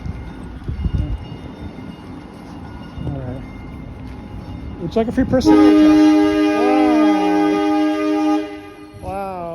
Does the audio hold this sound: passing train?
yes